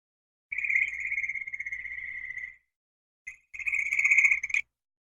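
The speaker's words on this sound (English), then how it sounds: "My mom likes to send me like frogs mating outside their house." Frogs mating outside a house give off a loud, close, buzzing trill. One sustained call runs about two seconds, then a short chirp and a second trill follow after a brief pause.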